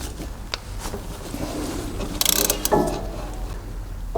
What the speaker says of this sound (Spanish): y empezamos a accionar la llave